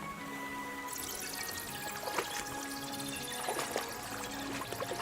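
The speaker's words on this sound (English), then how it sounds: "Usually there's only a small trickle running through here. The water must have risen." Risen water running through a cellar in Kingdom Come: Deliverance 2, a continuous pouring and splashing stream at moderate level with a few louder gurgling surges, no talk.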